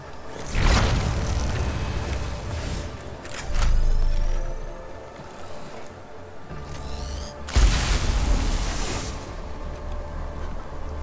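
A volkite gun firing in the Warhammer game Mechanicus, heard as three loud bursts, each a sharp crackling blast that decays into a roaring whoosh, with quieter mechanical rumble between shots.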